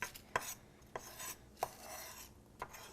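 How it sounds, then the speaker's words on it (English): Several sharp knife strikes on a cutting board as garlic is chopped quickly for a Bolognese sauce, four or five crisp taps spaced irregularly, close and fairly quiet with no talking. "I'm also going to chop up the garlic pretty quickly"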